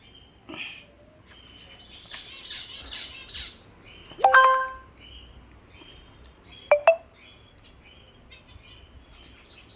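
Pet finches building a nest chirp in short, scattered bursts, with a few sharper, louder calls standing out against a quiet background.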